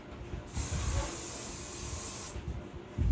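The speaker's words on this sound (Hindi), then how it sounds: "Hair spray." A can of hair spray releases one long, steady hiss lasting about two seconds, close and fairly even, while a party hairstyle with a bow is finished, then a shorter puff follows.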